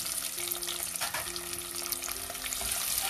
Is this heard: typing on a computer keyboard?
no